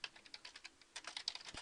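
Rapid clicking of keys on a computer keyboard, steady irregular typing with a brief pause midway, close and fairly quiet, no voices.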